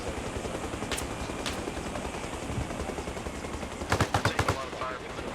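Gunfire in the video game Arma Reforger: a couple of isolated shots early, then a tight rapid burst of several loud cracks near the end, over steady battlefield background noise.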